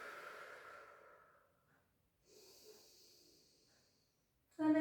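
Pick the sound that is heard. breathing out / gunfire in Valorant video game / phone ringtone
breathing out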